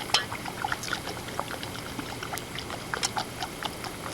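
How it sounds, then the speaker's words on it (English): Food goes into boiling hot water in a pot on a stove, with splashes and a crackling, bubbling simmer of scattered pops at close range. "Add them to boiling hot water"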